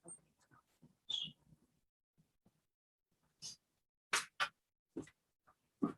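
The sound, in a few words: dog whimpering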